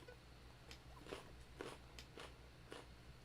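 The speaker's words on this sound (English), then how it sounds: "Sorry, let me move my mic away so I crack some carrots." Raw carrots being crunched at a distance from the microphone, a handful of faint, sharp bites spaced irregularly over a low steady background hum.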